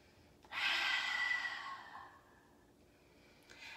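A single long, airy exhale during yoga practice, starting abruptly and fading over about a second and a half, close and soft, followed by quiet with a faint breath near the end.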